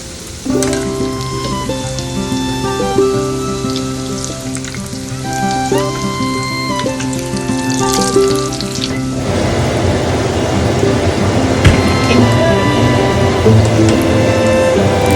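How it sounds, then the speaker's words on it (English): Kenyan samosas wrapped in spring roll sheets fry in hot oil, giving a loud, continuous close-up sizzle and crackle that grows denser partway through, with faint tonal background sounds. "Just fry them golden brown."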